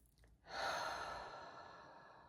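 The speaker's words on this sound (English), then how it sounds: "You just breathe." A single deep, slow exhale sighs out softly and close during a guided meditation, a breathy rush that swells quickly and then fades gradually.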